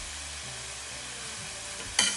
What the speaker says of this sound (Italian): Andiamo ad aggiungere ora la carne al soffritto.